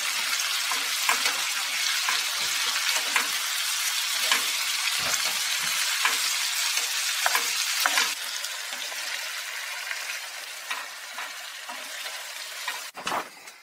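Loud, dense sizzling as strips of tuna go into a calamarata sauce in a hot pan aboard a sailboat, with clinks and stirring bursts scattered through, easing slightly partway, no talk.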